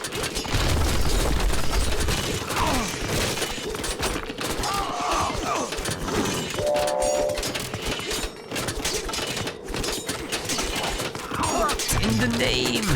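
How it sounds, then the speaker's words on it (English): Ship cannon fire and crashing impacts as three destroyers pound a town center in Age of Mythology, a dense, continuous barrage of booms and smashes under game sounds and a speaking voice. "3 destroyers destroying a TC?"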